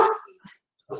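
A pet dog barks indoors, close and loud, with one sharp bark, a short low yip and the start of another bark, announcing someone's arrival.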